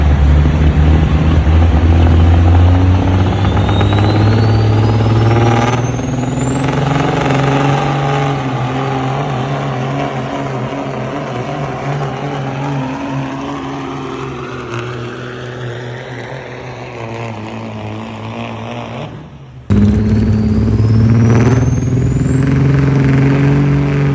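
A cabover semi truck at a sled pull roars loudly and close. Its engine revs rise in a long climbing whine, ease off, then cut out briefly before roaring back up at the end.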